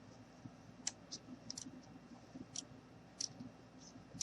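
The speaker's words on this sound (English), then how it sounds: "I'm just going to go ahead and just cut a little bit just to give him some little rips" Scissors snipping small rips into doll-sized jeans for a craft gnome, heard as faint, sparse, sharp little clicks at irregular intervals over a quiet room hiss.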